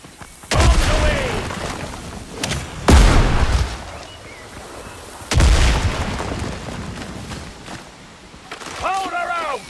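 Cannon fire and explosions from a pirate-era naval battle in the video game Windrose: three heavy booming blasts at roughly two-second intervals, each with a rumbling tail, with people talking between them.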